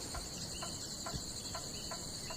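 Leichhardt's grasshoppers, also called Australian spectacular grasshoppers, in North Australia, with a steady high insect trill running throughout alongside a faint series of soft regular ticks, quiet and continuous.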